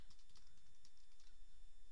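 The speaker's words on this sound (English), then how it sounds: "as soon as I start typing" Computer keyboard typing while a new Access database record is entered: soft, quick key taps spread through a short stretch under a faint steady hum, with no voice.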